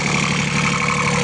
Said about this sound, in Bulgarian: Двигателът в момента работи